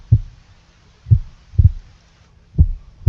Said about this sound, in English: Oh, it's a heartbeat.